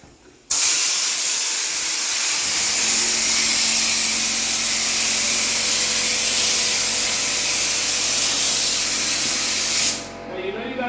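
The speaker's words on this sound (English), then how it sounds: "Popcorn sand texture should just come flying out of the gun." A texture gun blasts popcorn sand texture onto a patched drywall ceiling during water damage restoration, a loud, steady, close hissing spray that starts abruptly and runs unbroken for about nine seconds before cutting off.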